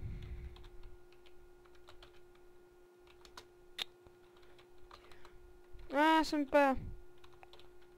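Scattered computer keyboard keystrokes during a Minecraft session, soft and sparse, with a short burst of bright game tones near the end and a few brief spoken words.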